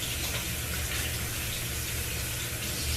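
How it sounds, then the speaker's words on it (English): A kitchen tap runs in a steady, full stream as hands are washed after handling raw chicken meat, the water sound loud, constant and unbroken. "I'm going to wash my hands real quick."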